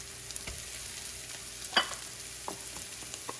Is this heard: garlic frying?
yes